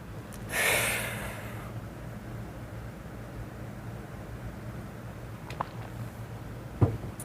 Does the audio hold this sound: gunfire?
no